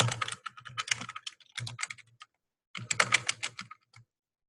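Fingers type an email address on a computer keyboard, quick clusters of soft key clicks that come in bursts separated by short pauses, close and fairly quiet.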